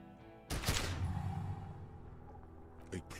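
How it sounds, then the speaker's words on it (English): A single loud gunshot blast from a gun in the video game Disco Elysium, a sharp burst trailing into a rumbling decay, with a faint later knock. "A plume of smoke and fire erupts from the gun, and your hand goes numb from the explosion."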